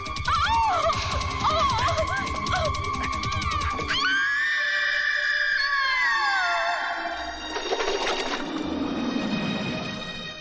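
A woman screams in a tense Hindi film scene starring Anil Kapoor, her high, wavering cries loud over dramatic background sound before giving way to a long sustained tone and rumbling effects.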